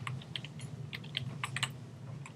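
Light, quick typing on a computer keyboard, a run of soft close clicks in an irregular patter with a low hum underneath.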